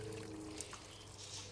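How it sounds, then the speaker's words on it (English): Water trickles and splashes softly down a homemade garden waterfall into a small pool, a faint, steady wash with no voices. "So the water just trickles down here."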